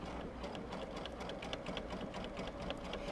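A sewing machine stitching quilt binding runs at a steady, fast rhythm of needle clicks over a low motor hum. It sounds fairly quiet and close, with no talk.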